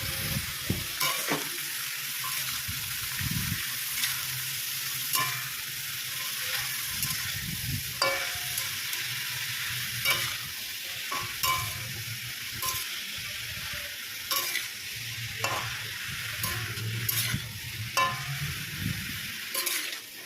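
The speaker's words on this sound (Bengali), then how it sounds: "আন্দাজ মতো নুন ও হলুদ দিয়ে লাউগুলোকে ভালো করে সাঁতলে নিতে হবে।" Sliced bottle gourd with salt and turmeric sautéing in a pan: a continuous loud sizzle and fry with regular stirring scrapes and occasional utensil clinks against the metal, heard close with no talking.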